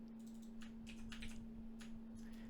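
Keys clack on a computer keyboard in short bursts of quick taps, fairly close, over a steady low electrical hum, as a Control and F shortcut is pressed.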